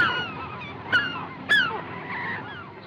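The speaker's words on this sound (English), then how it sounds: "The birds!" Several geese honk loudly and close by, with two sharper calls standing out above a continuous busy chorus of overlapping honks and cackles.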